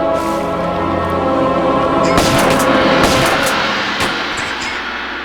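A guard fires an Uzi in the Tomb Raider game, a loud continuous burst of rapid gunfire with sharp cracks standing out over dense booming game noise.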